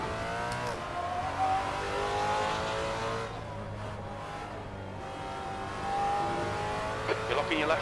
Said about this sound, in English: You're locking your left front, braking for a corkscrew. I know that's a lockup